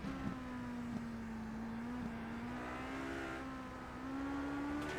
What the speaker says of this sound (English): As you can hear how tentative Jonk is on the throttle on that LMP2 through the slower sections of the track